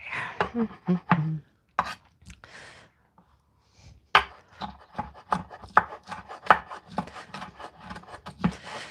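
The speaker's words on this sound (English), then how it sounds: "I'm going to finish this chopping" A knife chops ingredients for medieval lamb meatballs on a board, in quick irregular bursts of sharp knocks, close and fairly loud, with a short pause midway before steady rapid chopping resumes.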